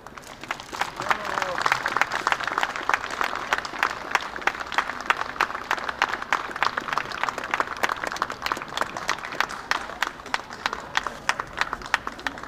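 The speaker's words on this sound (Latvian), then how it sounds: "lieliski pelnījuši mazliet varenāks aplausus" An indoor audience at a Livonian cultural day event applauds in a dense, continuous wash of many hands clapping, steady and fairly loud for the full stretch with no talking over it.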